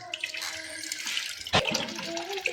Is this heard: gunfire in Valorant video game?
no